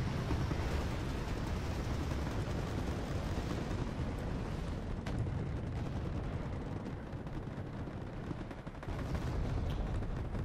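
Tank and artillery fire from the video game Wargame Red Dragon. Dense, continuous rumbling blasts and gunfire fill the whole stretch, loud and close, with no voice.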